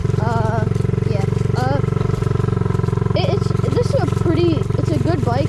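A friend's mini bike engine runs steadily close by with a constant droning buzz, while people talk and exclaim over it throughout.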